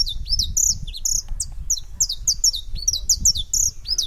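A saffron finch sings in repeated bright, high chirping phrases, close and clear, over a low rumbling background.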